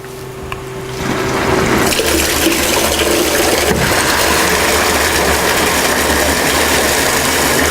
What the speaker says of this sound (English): we'll start tipping some of the liquid into this drum